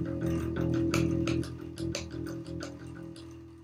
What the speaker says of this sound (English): So if you were to play just an open note on the E string with your fingers,